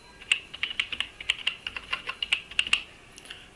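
Rapid, uneven keystrokes on a computer keyboard while an employee ID is entered into a claim form, about fifteen crisp, close clicks alone in a quiet room.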